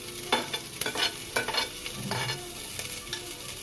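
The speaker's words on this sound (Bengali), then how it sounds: "এবার একে একে সমস্ত সবজিগুলো আমি এভাবে ফ্রাই করে নেব।" Chopped beans and capsicum fry in a pan, a steady close sizzle broken by repeated scraping stirs and clinks of a spatula against the metal.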